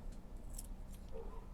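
Scissors snip through Dollar Tree photo album cover material to trim a mitered edge, giving a few quiet, short cuts over low room hum.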